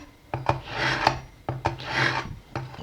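A kitchen knife drawn firmly through a sharpener to prepare salmon tartare, two close, rasping passes, each a gritty scrape rising and falling, separated by a brief pause.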